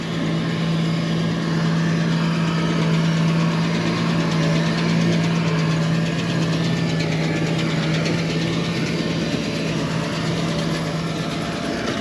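A slip clutch slips on a dusty machine in drought-dry conditions, giving a steady, loud mechanical drone with a low hum and fast rattling knock that runs continuously throughout, with no voices.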